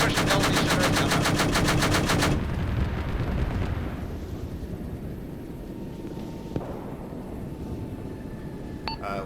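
Heavy automatic gunfire in a video game military operation, a dense continuous burst filling the first two seconds, then lighter scattered shots and rumble continuing in the background.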